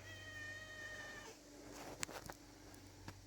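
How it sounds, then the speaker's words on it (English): A cat meows for attention outdoors in a forest clearing with bamboo, a drawn-out harmonic cry lasting over a second, followed by a few soft shorter chirps and faint rustling. "Cat's been begging for attention actually since a little bit ago."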